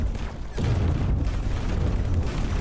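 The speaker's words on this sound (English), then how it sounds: "Turrets are firing as well." Ship turrets firing in the space game X4: Foundations, a dense run of deep booms and rumbling blasts that continue steadily, loud and close, with no voices.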